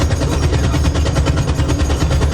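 Rapid automatic gunfire from a battle scene in The Boys, a loud, sustained burst of evenly spaced shots rattling without pause, with no voices over it.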